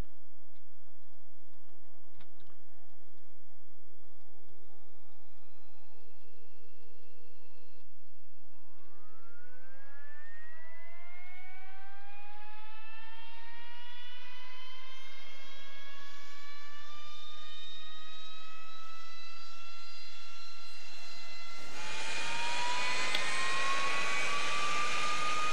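A jet aircraft engine spools up in a DCS World cockpit, its whine climbing steadily in pitch over several seconds before settling into a loud, steady high hiss, with no talking.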